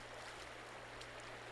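Shallow stream water flowing over slick, moss-covered rocks makes a quiet, steady rushing hiss that runs continuously, with a faint low hum beneath and no voices.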